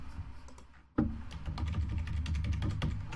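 Rapid typing on a computer keyboard, with a continuous stream of close, crisp key clicks over a low background hum and a brief pause before a heavier keystroke resumes the run.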